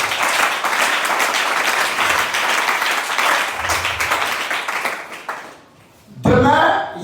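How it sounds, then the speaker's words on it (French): A church congregation bursts into sustained applause and cheering for the Lord Jesus Christ, dense clapping that carries for several seconds before fading out, followed by a brief return of a speaking voice. "Est-ce qu'on peut acclamer pour le Seigneur Jésus-Christ?"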